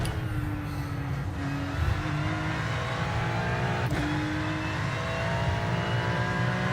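A BMW race car on track during the Nürburgring 24-hour race, its engine roaring steadily at close range and swelling as it passes, with dense motor noise and no talk.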